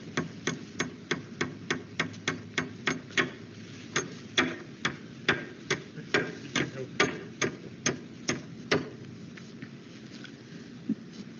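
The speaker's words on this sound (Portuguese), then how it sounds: "utilizando o prego e martelo" Nails driven with a hammer to fix a wooden board at a marked level on a construction site, about two dozen sharp, evenly spaced knocks in a steady rhythm, close and clear, then a few lighter taps as it trails off.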